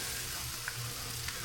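Food cooking down in a pan before coconut is added, a soft steady sizzle under a quiet hiss with a couple of faint clinks and no talk.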